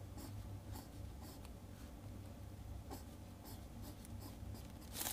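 A pen scratches and strokes across paper while a bar graph is drawn, a soft continuous scribbling with light taps, faint and close under low background hiss.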